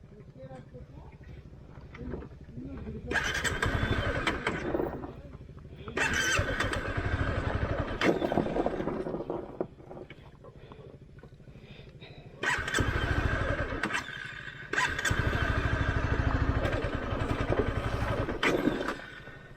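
Honda CBR motorcycle riding off-road in first gear near Dandeli, its engine revving in repeated bursts that rise and fall, loud and close, with lower idling stretches between and people talking over it.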